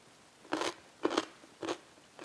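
Four crisp crunching bites of cubed radish kimchi (kkakdugi), evenly spaced about half a second apart, close to the mouth with quiet pauses between and no speech.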